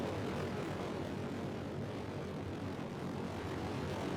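Solid rocket boosters launching in Kerbal Space Program roar as a steady, loud, dense rumble that holds unbroken throughout with no pauses or speech.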